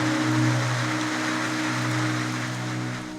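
Heavy afternoon rain pours on a bamboo house in a steady, dense wash, with a low constant hum running underneath throughout.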